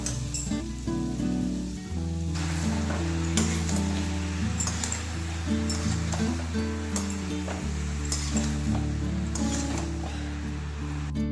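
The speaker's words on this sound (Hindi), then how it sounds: "यहाँ पर अभी सब्जी को फ्राई कर देते हैं।" Chopped bottle gourd with onion, green chilli and dry spices fries in a pan with a steady sizzle and scattered clinks of a utensil, heard up close under a continuous low hum.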